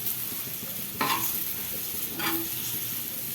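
Chili powder being stirred into fried bitter gourd in a pan: two short scraping strokes against a steady background hiss, with no talking.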